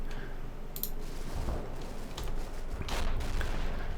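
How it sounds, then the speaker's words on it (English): A tank's main gun fires in the wartime tactics game Combat Mission: Battle for Normandy, with sharp bursts and clicks over low rumbling battle noise, several distinct reports standing out near the middle and end. "That's not a dead main gun, he just fired it there."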